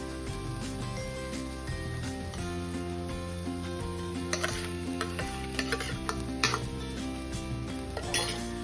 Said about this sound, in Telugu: పోపు వేసుకుందాం.